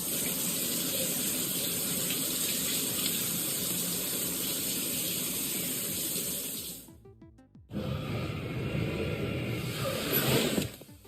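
Steady loud rush of shower water in the Death Stranding 2 video game, continuous spray that cuts out briefly then gushes back on, close and dense, with no talking.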